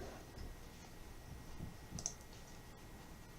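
A single sharp mouse click during a Magic: The Gathering Rivals of Ixalan draft on a computer, faint and isolated against a low background hiss.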